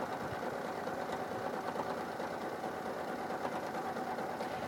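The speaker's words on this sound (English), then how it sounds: "So once I really just start stitching the buttonhole, it will catch the cord and encase it underneath the 2 satin stitch rows of the buttonhole" Husqvarna Viking Jade 20 sewing machine stitching a corded buttonhole in satin stitch rows, a steady fast mechanical whirr running continuously at close range with no pauses and no talk.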